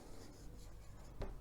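An equation being written by hand, with a soft continuous scratch of pen on paper close up and a sharper tap near the end.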